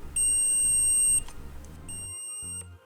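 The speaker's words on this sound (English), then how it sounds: "Now using a multimeter, check the continuity for the power and ground pins." Multimeter continuity buzzer beeping while probing the power and ground pins of LED strips, two loud sustained electronic tones, the first about a second long and the second shorter after a brief pause, with faint handling clicks.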